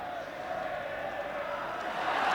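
Football crowd at a Northern Ireland versus England match roars in reaction to a player's fall, a steady, dense wash of distant voices that swells slightly toward the end.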